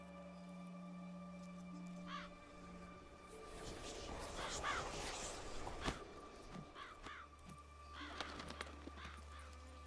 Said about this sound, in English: So the crows are going to go do something.